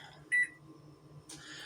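A kitchen timer set for one minute gives a single short electronic beep, clear and fairly close, followed by faint background noise in a quiet kitchen.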